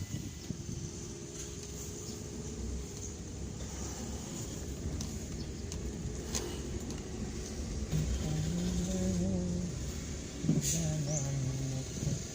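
A car pulls into parking at Museum Majapahit in Trowulan, Mojokerto: a steady low engine rumble with wind buffeting, continuous and fairly near, with a faint tonal whine rising near the end.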